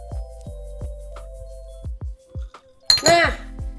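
Glasses clink together in a toast, a bright ringing clash near the end that follows a few soft taps and knocks of tableware, with voices briefly audible.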